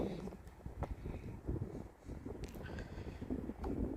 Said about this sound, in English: Wind is fun